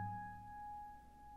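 A natural harmonic rings on the first string of an acoustic guitar at the 12th fret, one soft, pure bell-like tone that sustains quietly and steadily fades.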